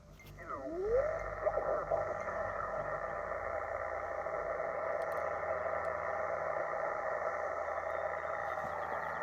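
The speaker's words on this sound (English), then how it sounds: "This is RF interference or electrical noise, not people talking." Static-laden RF interference hisses and drones on a 17-meter HF amateur radio channel, with a brief swooping tone at the start followed by steady buzzing electrical noise and faint tonal hum throughout.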